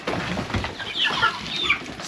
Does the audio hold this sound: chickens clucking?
yes